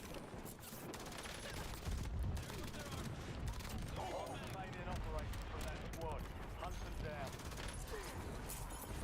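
Bursts of rapid gunfire and scattered shots in the Warzone battle royale video game, loud and continuous, with voices mixed in.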